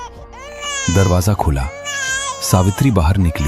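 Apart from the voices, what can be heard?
newborn baby's first cry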